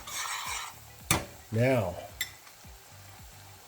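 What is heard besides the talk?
stirring food in a pan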